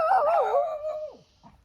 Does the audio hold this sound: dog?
yes